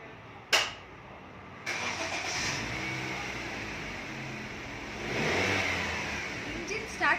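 A car engine starting, a sharp click and then a steady mid-range engine roar that swells briefly as it revs, close and fairly loud, with a voice speaking over parts of it.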